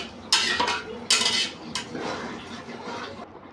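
Clattering metal and dish knocks as pilaf (polao) is cooked in pots and pans in a home kitchen, with two sharp bursts of scraping and clinking near the start, then softer stirring and rustling.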